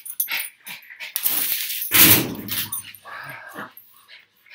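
Peanut, a pet dog, lets out a few sharp barks, then a loud yelp-like bark and softer whimpers, close by and with short gaps between them.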